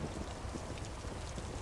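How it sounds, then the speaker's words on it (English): Heavy rain pours steadily in a video game, a dense, continuous hiss of falling water with a low rumble underneath and no voices. "Now it's pissing with rain."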